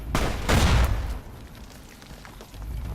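Explosions in the Fallout video game: a loud booming burst up close in the first second, then a quieter crackling tail and a fainter rumble near the end.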